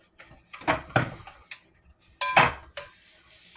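Mixing bowl and utensils handled in a home kitchen while making blueberry muffins: a few close clinks and knocks of dishes and cutlery in short bursts, with quiet gaps between.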